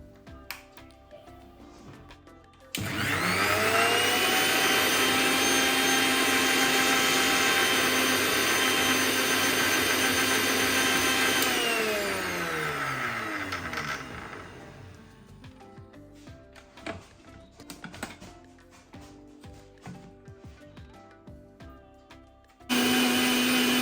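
Kitchen mixer grinder running with water inside to clean the jar: a loud steady whirring drone for about nine seconds, winding down, then clunks and handling noises before the motor starts again.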